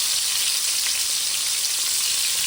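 Seasoned seafood patties fry in oil in a skillet, a steady, loud, dense sizzle that holds evenly throughout with no talking.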